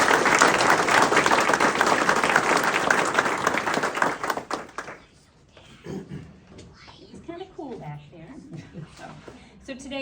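An audience at the opening of a new early learning school in Skowhegan applauds a speaker with dense steady clapping for about five seconds; it then stops abruptly and a single voice begins speaking.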